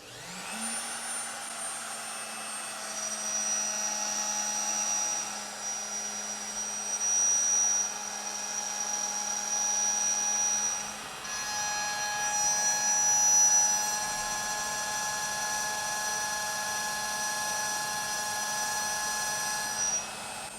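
Thread milling cutter machining a part on a manual lathe, a steady whining motor hum with high tonal ringing that holds for about twenty seconds, shifting pitch partway through, loud and close with no talk.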